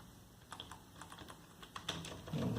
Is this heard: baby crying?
no